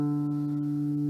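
A single open D string on an acoustic guitar rings out alone, one steady sustained note with clear overtones that holds for just over a second before a new sound starts at the very end.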